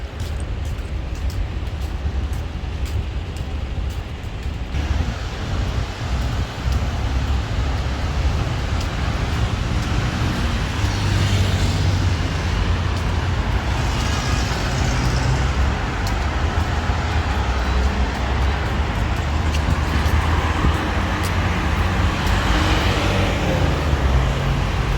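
Busy road traffic crossing a bridge, a dense steady roar of engines and tyres with wind, continuous and fairly loud throughout, no single vehicle standing out.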